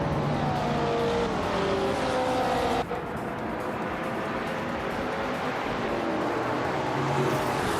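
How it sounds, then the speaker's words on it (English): Vintage race cars, led by a 1966 McLaren M1D, roar around the Rouen-les-Essarts circuit in a racing video game, with dense overlapping engine whine and shifting pitch sweeps, steady and loud throughout. "the race is underway at Rouen-les-Issa. Amy in her vintage McLaren M1D from 1966 is starting on pole"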